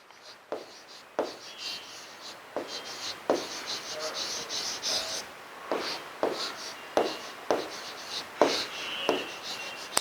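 Chalk taps and scratches steadily on a classroom board as a teacher writes number-system labels, with short bursts of strokes that are close and clear and no talking over them.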